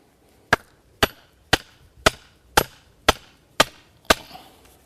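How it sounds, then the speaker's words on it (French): A garden stake for tomato plants is driven into the ground with eight sharp, evenly spaced knocks about half a second apart, each a crisp woody impact with a short ring, close and loud with no talking. "on commence par planter son tuteur"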